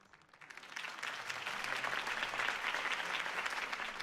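Video game crowd applause at a political campaign speech: dense clapping swelling up after a quiet start and holding at a full, even roar.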